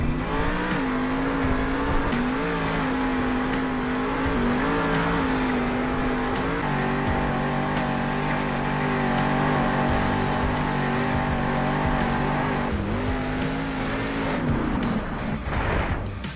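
Monster truck Whiplash revs its engine inside a Salt Lake City arena at a Monster Jam event, a loud sustained roar with rising and falling pitch and heavy crowd-filled reverberation throughout.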